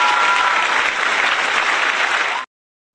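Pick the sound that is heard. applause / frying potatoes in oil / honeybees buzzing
applause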